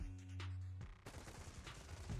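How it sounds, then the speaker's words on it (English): Rapid gunfire in the video game Zenless Zone Zero, a dense crackling burst of shots following a low humming tone, continuous and loud. "A sharp gunshot echoes from not far away"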